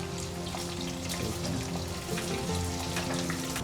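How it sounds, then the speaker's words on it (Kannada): Chopped onions frying in hot rice bran oil for a spicy hotel-style misal, a steady dense sizzle and crackle that runs close and continuous with no talk over it. "ಎಣ್ಣೆ ಕಾದ ನಂತರ ಮೊದಲಿಗೆ ಈರುಳ್ಳಿಯನ್ನು ಹಾಕೊಳ್ತಾ ಇದ್ದಾರೆ"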